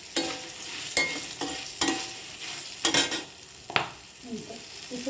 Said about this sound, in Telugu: వేపేగా అప్పుడే బాగుంటుంది పచ్చిమిరపకాయలు